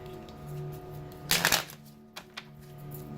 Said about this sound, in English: you should see me struggling to shuffle these damn things